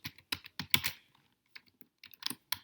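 Bursts of typing on a computer keyboard while writing code, close and crisp, with quick clusters of keystrokes separated by short pauses.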